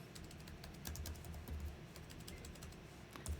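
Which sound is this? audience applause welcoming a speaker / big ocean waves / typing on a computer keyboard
typing on a computer keyboard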